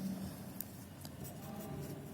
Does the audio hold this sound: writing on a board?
yes